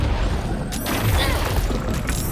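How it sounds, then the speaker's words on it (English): An egg exploding in Baldur's Gate 3, a loud booming blast with crashing debris sounds mixed into dense game noise, lasting about two seconds and heard close. "So Butterscotch just took 7 damage from an explosion because the egg immediately exploded at the end."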